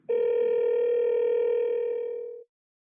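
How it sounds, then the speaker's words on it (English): A steady iPhone dial tone, one loud, clean sustained tone lasting about two seconds and then cutting off abruptly, heard alone. "tapping on a phone number calls that number"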